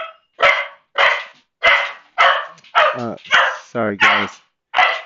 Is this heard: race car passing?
no